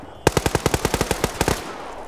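A burst of rapid automatic fire from an M240 machine gun in the video game Arma 3, about fifteen evenly spaced sharp shots over roughly one and a half seconds, loud and close, with no voices.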